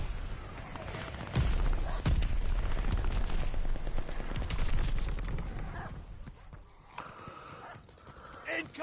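Gunfire in the Call of Duty Vanguard video game on PS5, bursts of shots cracking close and loud through the first half, then easing off into quieter game sounds, with voices talking over it.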